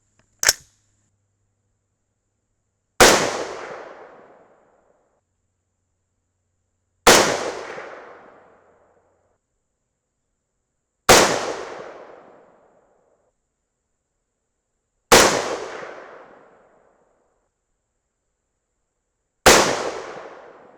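Rifle shots ring out one at a time during barrel harmonics testing. A faint first report comes before five loud, sharp cracks spaced about four seconds apart, each trailing off in a brief echo over otherwise silent air.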